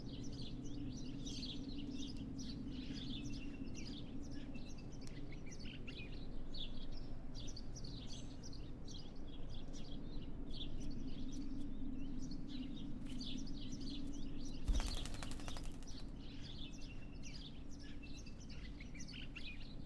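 Small birds in Martha Is Dead chirp and twitter continuously at moderate distance over a low steady outdoor ambience, with one brief sharp noise burst partway through.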